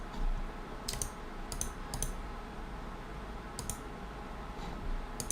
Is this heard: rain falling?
no